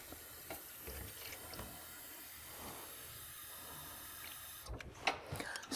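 Warm water runs from a tap in a clinical nursing skills setting, a steady faint hiss of flow lasting several seconds with a few small clunks near the end.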